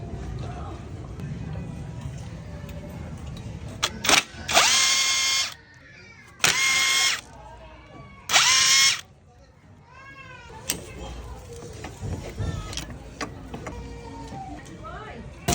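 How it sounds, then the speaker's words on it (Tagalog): Power screwdriver unscrewing size 10 screws from the magneto cover of a Honda Click 125 scooter, three loud whirring bursts close up with pauses between them, amid low background noise and clicks. "Paliban kasi natin yung 4 na tornilyo."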